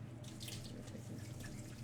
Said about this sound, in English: I drain the tub, and then as it's draining, I'm like gently squeezing out the excess water.